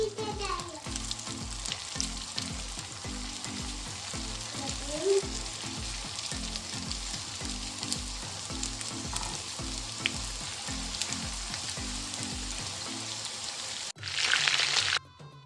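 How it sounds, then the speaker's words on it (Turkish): Rolled börek pastries fry in hot oil in a pan, a steady close crackling sizzle with rhythmic bubbling that runs throughout, ending with a short burst of louder noise. "Yağ ısındıktan sonra hazırlamış olduğumuz börekleri yağın içerisine bırakalım."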